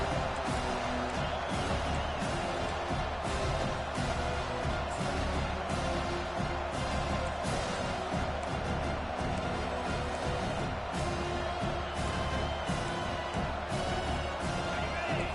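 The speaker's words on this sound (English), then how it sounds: "The roar of the crowd trying to fuel this defense to keep them pinned in their own end" A football stadium crowd roars in a sustained, wide wash of noise from thousands of fans urging on the defense, rising in swells with scattered cheers throughout.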